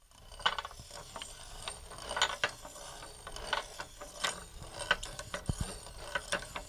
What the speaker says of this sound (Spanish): En este caso el eje es como una especie de tornillo que es el que muele el maíz.